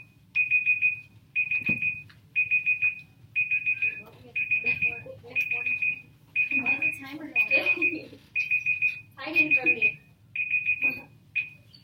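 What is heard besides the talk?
timer alarm going off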